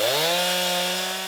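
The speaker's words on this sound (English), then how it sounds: "With chainsaws in hand," A chainsaw drones steadily while cutting through tornado debris during storm cleanup, a loud, sustained engine whine holding one pitch for over a second with no voices.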